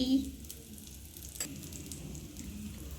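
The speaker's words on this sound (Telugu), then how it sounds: "ఇలా ఆనియన్ వేసుకొని నెయ్యి వేయాలి" Ghee and sliced onions sizzle steadily on a frying dosa, a continuous close hiss and crackle with soft stirring underneath.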